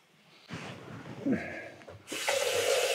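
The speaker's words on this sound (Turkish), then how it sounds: "Burada musluğu açtığın gibi içiyorsun değil mi?" Kitchen tap turned on, water gushing and splashing steadily into the sink, starting abruptly in the last second after soft handling noises and a brief low voice.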